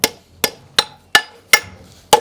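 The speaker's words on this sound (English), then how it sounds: "A nice overlapping hammer blows with the round end of my hammer." A farrier's hammer strikes metal with its round end in six evenly spaced, sharp blows, each ringing briefly before the next, close and loud.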